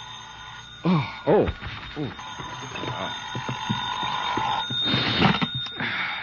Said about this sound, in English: my phone rang the next morning